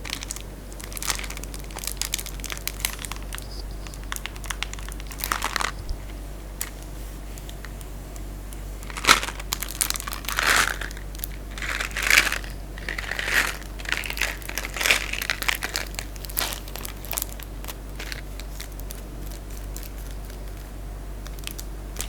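The plastic wrapper of a jelly bean candy package crinkles and crackles as it is pulled open, giving close, intermittent rustling bursts that get busier toward the middle.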